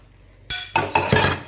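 Breakfast dishes handled in a home kitchen: a sudden clatter of plates, pots and cutlery with bright clinks, several overlapping knocks of metal and ceramic close by, with no talking.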